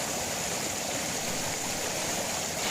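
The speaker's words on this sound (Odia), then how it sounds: "ସେ ଝରଣାର ପାଣି ଏବେ ଏମିତି ବହି ବହି ତଳକୁ ଆସୁଛି" Water pours down the Chakra Tirtha waterfall at Anandapur in Keonjhar, Odisha, a loud, unbroken rushing roar heard up close with no voices over it.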